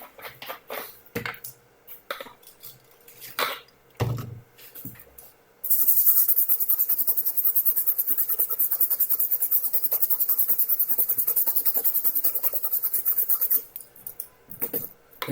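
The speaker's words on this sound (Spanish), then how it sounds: "Vamos a darle una limpieza para remover los rastros de flux." Rubbing and brushing on a Samsung A23 phone circuit board to clear flux residue, first in scattered scrapes, then a long steady hissing scrub of about eight seconds, close and fairly loud.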